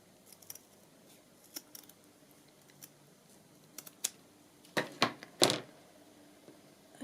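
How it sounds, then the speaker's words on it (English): Scissors cut a piece for a sewn Moroccan journal cover. Faint clicks and snips come at scattered intervals, then a few louder, closer crunching snips build near the end, with no talk. "Or I could cut one of these pieces."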